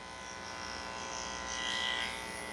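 Electric clippers hum steadily while shaving under a Yorkie's arms during grooming, a close continuous buzz that swells slightly near the end.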